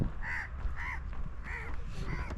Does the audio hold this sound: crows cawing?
yes